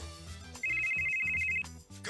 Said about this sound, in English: Phone rings. Bear, your phone is going off.